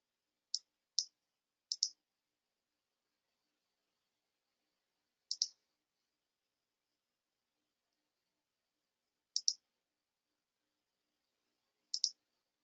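Computer mouse clicks while paging through invoices in capture software: sharp double clicks, three in quick succession early, then single pairs spaced several seconds apart, close and crisp against silence.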